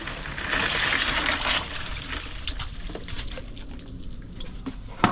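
Gutted bonito are lifted out of an ocean-water brine, with close sloshing and trickling water, busiest at first and then thinning to scattered drips and small splashes, ending in a louder knock.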